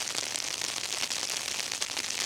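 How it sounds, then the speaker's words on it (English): Frozen rain falls steadily on a snow-covered street in South River, New Jersey, a dense, even hiss with fine crackling ticks throughout, close and continuous with no voices. "Pablo says we can hear the frozen rain"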